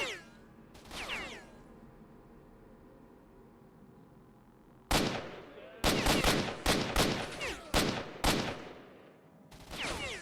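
Bursts of automatic rifle fire in S.T.A.L.K.E.R. Shadow of Chernobyl, a short volley early on, then a dense run of loud back-to-back shots with brief gaps, ending in another burst.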